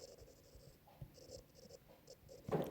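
Chalk or marker scratches across a classroom board in short, quiet strokes with brief pauses, faint against a hushed room, as a teacher writes a label during a biology lesson.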